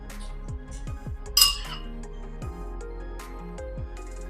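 A tablespoon folds blueberry cupcake batter in a bowl, scraping and clinking against the sides in a quick repeated rhythm, with one sharper metallic clink partway through, close and clear with no talking.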